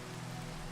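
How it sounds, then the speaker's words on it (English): Rain falls steadily in Minecraft, a soft continuous hiss of patter with no breaks over the whole brief stretch. "it's raining, and rain puts stress on the system"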